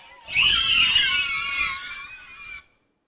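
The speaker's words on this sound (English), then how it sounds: "Those are the resounding screams of joy from children in Nevada set free from 2 years of mask tyranny in their school" A crowd of schoolchildren in Nevada letting out loud, high-pitched screams of joy, one sustained burst of about two seconds that then cuts off.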